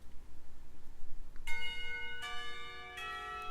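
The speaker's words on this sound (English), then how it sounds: "A bell heralding the beginning of lunchtime rings out" A school bell rings for lunchtime in the visual novel Katawa Shoujo, three resonant church-like strikes in slow succession, each ringing out over a low rumbling background.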